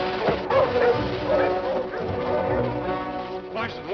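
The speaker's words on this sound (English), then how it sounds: "Larson, Warner, help me harness my dogs." A team of sled dogs in a snowy outdoor setting barks, yips and whimpers continuously and excitedly, their voices overlapping throughout and heard under a shouting voice in an old 1953 serial film.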